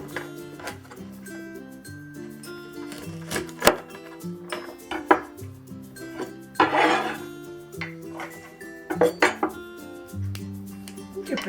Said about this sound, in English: we'll cut it into like 2-inch sections